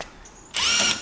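A power drill whirs up loud and close during final engine assembly of a 2JZ swap in a 350Z, starting abruptly after a brief quiet moment and running steadily to the end.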